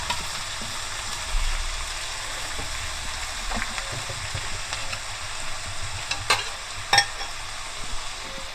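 Street-style chowmein noodles stir-fried in a small kadhai, a continuous close sizzle with scraping and tossing clatters of the spatula, louder knocks near the end.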